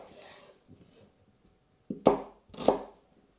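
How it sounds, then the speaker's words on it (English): A knife slices shallots on a board: faint scraping at first, then two distinct crisp cuts close together, each with a brief crunch. "Next, of course, I'm going to slice up my shallots."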